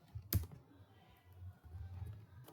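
Computer keyboard keys tapped while writing Excel VBA code, a close uneven patter of clicks with one sharper keystroke, no talking.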